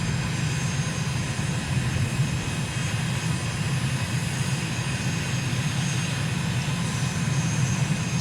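Small airplane on landing approach near Harare, Zimbabwe: a steady, loud engine drone with propeller buzz holding constant throughout, no speech.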